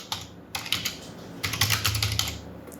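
A name is typed on a computer keyboard in two quick bursts of close, crisp key clicks separated by a short pause, with no voices.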